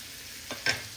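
Onions frying in oil in a pan, two short sizzling stirs against a faint steady hiss, close and fairly quiet.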